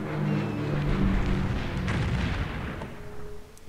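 Continuous rumbling bombardment and explosions from the bombing of Berlin in Civilization III, a World War II scenario, roll on densely with overlapping booms before easing off near the end.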